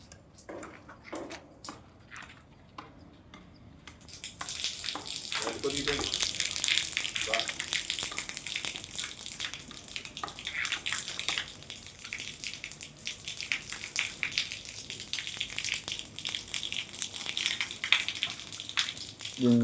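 Water from a borewell pipe rushes steadily through an iron removal filter, a continuous hissing gush that starts after a quiet opening and holds close and fairly loud, with faint sounds underneath.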